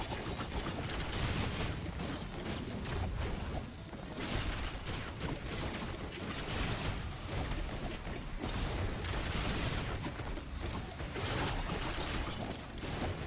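Rapid turret weapon fire in the video game Risk of Rain 2, a dense, continuous barrage of overlapping shots and impacts at steady loudness throughout, with no talk over it.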